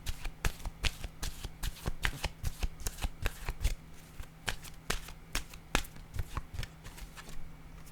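Intuitive soul oracle cards being shuffled by hand, a steady run of crisp, close riffling snaps with a faint low hum beneath and no speech.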